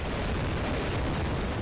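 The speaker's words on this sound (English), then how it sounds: "we might as well just use our cannons to shoot the general with some canister shot" Cannons firing canister shot in the battle game Empire: Total War make a dense, continuous rumbling roar with no separate blasts, loud and unbroken throughout with no speech.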